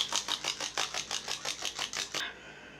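A small bottle of Marabu Metallic alcohol ink is shaken hard, about a dozen quick rattling shakes in a fast even rhythm, close and fairly quiet, stopping abruptly.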